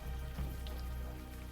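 Steady rain falls in a dark city scene of the adventure game Unavowed, a constant close patter under a low droning music bed.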